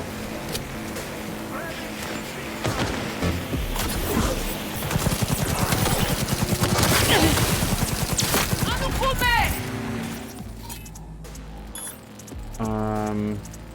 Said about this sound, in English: There are 2 separate factions here, so like they will shoot each other a whole bunch as well.